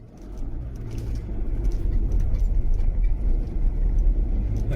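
An old MG Midget car drives past outdoors as a steady engine rumble that swells and holds, fairly loud, with faint birdsong above it.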